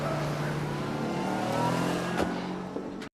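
A car in a film scene drives past, a steady engine hum building and whooshing by at moderate distance, with faint background sound and no clear talk.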